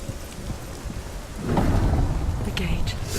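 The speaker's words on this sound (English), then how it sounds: "I realised I was in some sort of hurricane and got a bit upset" Rumbling thunder with steady rain pours through a stormy scene in Hellblade: Senua's Sacrifice, a sustained wash that swells louder midway and stays dense and close to the end.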